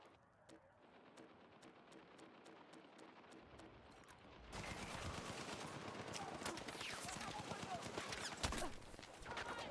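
Rapid bursts of gunfire from tanks in a video game, sparse snaps at first, then a dense, louder barrage of shots from the middle onward, with voices talking over it.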